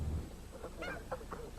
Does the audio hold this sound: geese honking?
yes